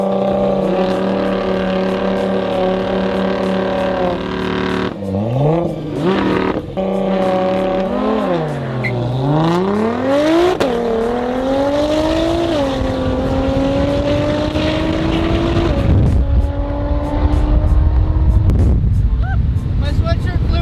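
A manual-transmission car launching hard, engine droning at steady revs before dropping and climbing through rising, sweeping revs as it accelerates through gears, loud and close with faint talk underneath.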